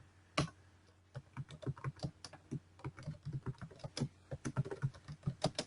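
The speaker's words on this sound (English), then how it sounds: "and then I'm just going to type in a name here." Someone types on a computer keyboard in a quiet room, a brisk run of soft, close key clicks after one sharper tap, with uneven rhythm and short pauses between bursts.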